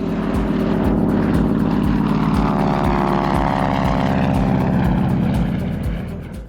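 A light airplane's engine drones loud and steady throughout a passenger's first flight, with a rhythmic propeller throb and a slight fade at the very end.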